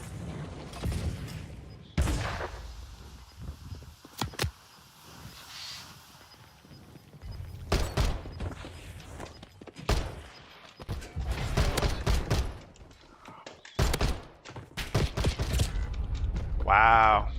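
Gunfire in Call of Duty Warzone: bursts of shots scattered across the clip with gaps between them, fairly loud, alongside other game noises and a voice in the background.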